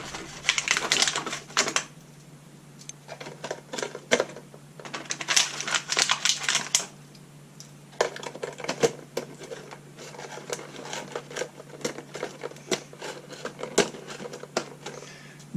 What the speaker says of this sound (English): So what I'm going to do is use my tape.